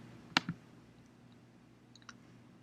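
A computer mouse clicks twice in quick succession, sharp and close, followed by a faint softer click a moment later in an otherwise quiet room.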